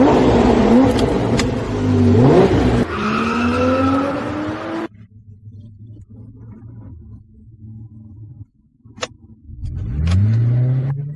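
A supercar being driven hard: loud engine revs rise and fall with brief tire squeals, then the engine settles to a low idling rumble before surging into another strong rev.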